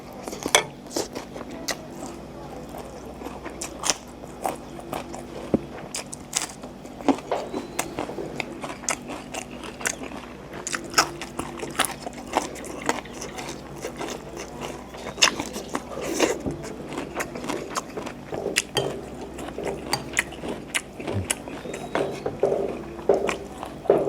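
Someone eating yam pla som, a Thai sour fish salad, with rice: close, wet chewing and biting with irregular crunchy clicks and scrapes, repeating steadily throughout with little talk.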